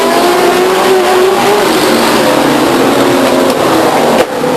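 Race cars accelerate at full throttle at Stockton 99 Speedway, a loud, continuous close-up engine roar from the pack that holds steady throughout with no talk.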